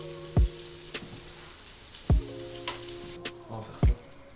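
A burger sears in a greased frying pan with a steady soft sizzle and crackle, broken by three sharp low thuds a second or two apart, close and without talk.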